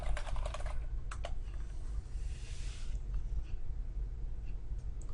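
Close keystrokes on a computer keyboard come in quick bursts, with short pauses and a low room hum between them, and no one speaks.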